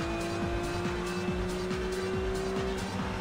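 A GT4 race car powers along the Nürburgring Grand Prix circuit, a loud sustained engine drone with rising pitch sweeps from gear changes, close and continuous.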